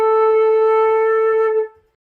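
A single sustained flute note A, clear and steady, held for about a second and a half before it stops.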